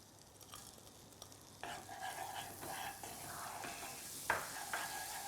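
Garlic and peppercorns frying in melting butter in a pan over medium heat, a soft sizzle with scraping and stirring that grows busier partway through, close and steady, with occasional sharper clinks of a utensil.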